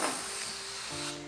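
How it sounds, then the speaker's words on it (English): Air rushes out of an inflated balloon up close, a steady breathy hiss with a thin squeaky whine that shifts pitch near the end, lasting about a second and a half with no voices. "And then I've got to let the air out now."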